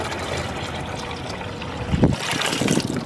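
Diluted liquid plant solution poured into four litres of water for a lemon plant, a steady close trickle and splash that swells louder toward the end.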